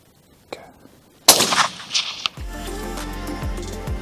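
A single sharp gunshot cracks out loud and close on a hunt, preceded by a faint click and followed by a few lighter knocks before a low steady hum and muffled rustle settle in.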